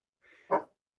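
Sam the dog lets out a single short bark indoors, preceded by a faint whine, close and moderately loud, with the start of another sound cut off at the end.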